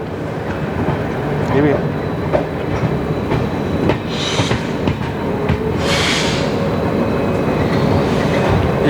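The Jodhpur Jaipur Intercity Express passes with a loud, continuous rumble and rhythmic wheel clatter, with brief brake-like hisses, while someone talks over it.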